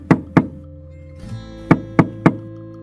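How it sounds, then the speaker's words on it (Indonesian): Knocking on a house door at night: two sharp knocks, a short pause with faint background noise, then three more firm evenly spaced knocks, close and loud. "dia pun mengetuk pintu rumahnya"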